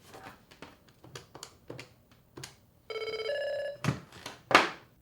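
An office phone on a PBX system rings with a steady electronic tone burst in the middle, after scattered handling clicks and knocks, followed by a couple of sharp clatters, close and clear with no talk.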